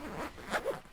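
A zipper is drawn shut on a packed storage bag, two or three quick, rasping pulls in under a second, close up.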